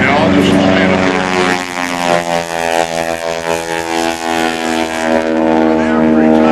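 Propeller aerobatic plane flown by Bill Reisman in the Red Bull Big display at the 2004 NAS Oceana Airshow, its engine droning loud and steady throughout with a rising and falling pitch, an announcer talking over it.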